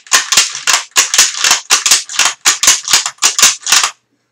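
A rifle fed with stripper clips from a 5-round magazine fires rapidly, about eleven sharp, loud, close shots in a fast, even rhythm with no talking.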